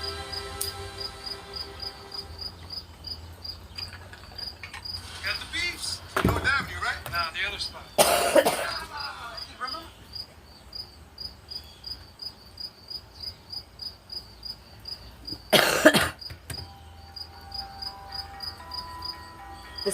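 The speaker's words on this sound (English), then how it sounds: "Do you hear that cricket? Cricket's losing its mind." A cricket chirps steadily in the background inside a church on a Sunday morning, with fast pulsing trills repeating throughout and a few loud bursts of noise breaking over it.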